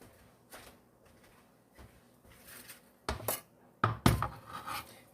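Dishes and bowls clatter and clink in bursts while a bowl is searched for during chicken pot pie prep, sparse knocks at first building to louder, clustered crashes toward the end, close by with no talk.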